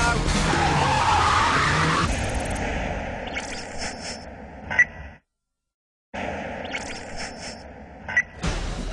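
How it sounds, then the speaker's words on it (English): A Sri Lankan Special Task Force car screeches its tyres loudly during a rubber-burning VIP extraction exercise driven in reverse, a long close skid that fades, cuts out briefly, then returns with engine roar. "hit the road hard in a rubber-burning VIP extraction exercise. Drive us straight into reverse now."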